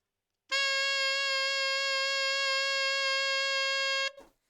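A single sustained high B flat on an alto saxophone, steady and clear, held for about three and a half seconds before stopping abruptly, played alone with no talking.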